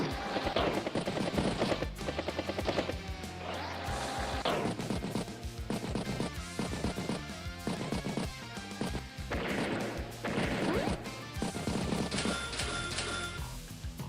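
Rapid bursts of gunfire and impact crashes from Advance Wars by Web battle animations, loud and repeated in clusters over a steady game music bed with no talk.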